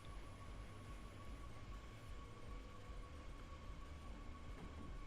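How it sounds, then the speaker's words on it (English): A train in a railway simulator game beginning to move, a low steady rumble of wheels and machinery with a faint thin whine held above it, continuous and fairly quiet. "Are you going to move, train?"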